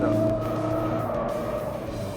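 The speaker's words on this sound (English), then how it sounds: "This vehicle is very easy to drift." A Ford Focus RS drifting, its tyres squealing in a steady, high whine over the loud engine roar, sustained and close throughout.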